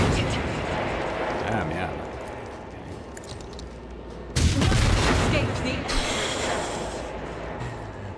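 Gunfire in the Rogue Trader tactical role-playing game: booming shots burst in partway through over a dense noisy battle bed, with a player talking briefly.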